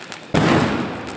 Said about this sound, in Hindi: लोग लगातार पटाखे हवा में छोड़ रहे हैं